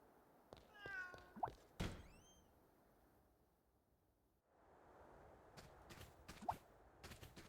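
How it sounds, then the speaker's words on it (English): Cats meowing in the video game Fantasian: Neo Dimension, a couple of clear, close meows followed by soft thuds and clicks from game actions, with no talking. "I should interact with the cats"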